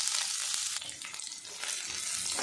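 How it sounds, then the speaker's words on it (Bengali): Thinly sliced onions fry in hot mustard oil with black cumin, giving a steady, loud, dense sizzle that holds for the whole stretch with small surges, as though the pan is being stirred. No voices. "পেঁয়াজটা আমি লাল লাল করে ভেজে নেব।"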